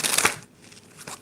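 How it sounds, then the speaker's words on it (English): A deck of tarot cards is shuffled, with brief papery riffles and soft rustling that fades out and then returns. "Let me shuffle your clarifying cards, clarifying deck"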